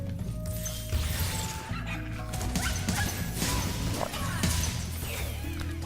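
Dogs bark and yelp in the Spyro Reignited video game amid dense, busy game music and effects, loud and continuous.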